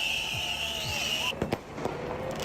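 Firecrackers thrown by protesters at police during a clash in London, sharp pops and crackling bursts with whistling streaks over a noisy street crowd.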